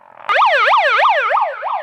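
A loud electronic siren wails in rapid rising-and-falling sweeps, about six cycles, starting abruptly and fading slightly toward the end.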